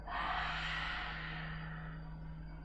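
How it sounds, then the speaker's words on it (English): One long, slow exhale through the mouth during a yin yoga session, a breathy airy rush that starts strongly and fades gently over a couple of seconds, close to the microphone over a low steady hum. "exhale through the mouth."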